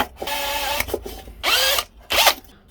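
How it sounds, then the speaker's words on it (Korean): A power drill bores terminal holes in a DIY 3S7P 28Ah power bank case, with three loud whining bursts of rising and falling pitch separated by short pauses. "단자들 들어갈 위치 타공부터 해볼게요."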